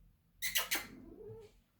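A pet cat, a female, makes a few sharp meow-like cries close by, with a rising, drawn-out tail to the last call before it fades to quiet room tone.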